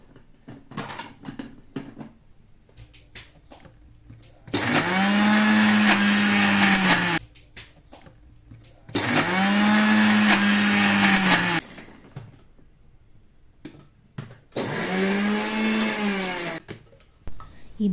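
Mixer grinder grinding vada batter with spices and lentils: three loud whirring bursts of several seconds each, separated by pauses with kitchen clatter and faint talk.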